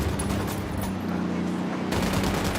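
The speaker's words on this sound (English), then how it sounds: "Opening fire." Dense, loud automatic gunfire from a cartel firefight in the tactical shooter Ghost Recon Wildlands, with rapid shots filling the whole stretch and a brief dip in the middle.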